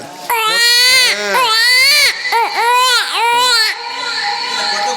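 A baby wails in loud, sustained cries, several long sobbing bursts with brief catches of breath between them, heard close and clear.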